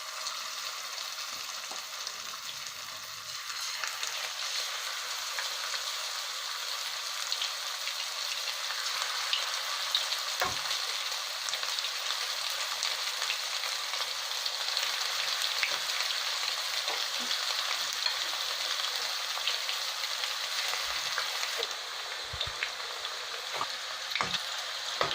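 Marinated chicken 65 pieces fry in oil heated to medium in a frying pan, giving a steady, dense sizzle with occasional pops and ticks that carries on unbroken with no talking.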